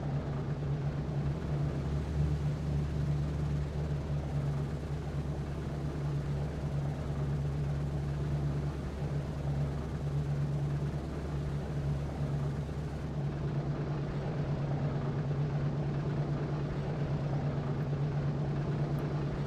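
A damaged B-17 bomber with a wobbly wheel touches down heavily on a runway in a flight game, its droning piston engines humming steadily and loudly throughout, a deep continuous tone that eases slightly near the end.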